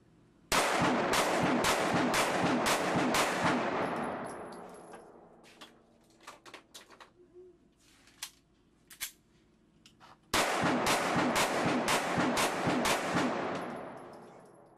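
A Nano pistol fires fast strings of shots during a break-in range session, two loud bursts of rapid, closely spaced gunfire separated by a quieter stretch of clinks and handling sounds.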